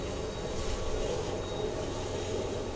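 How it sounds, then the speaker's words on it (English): A train passes in the background, a steady low rumble and hum that stays even and distant with no talk over it. "Alright, sorry, there's a train in the background."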